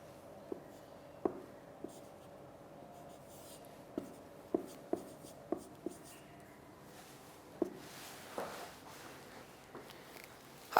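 Chalk or marker strokes on a classroom board, a series of short taps and scratches with pauses between them, fairly close and clear, with faint room noise in the background.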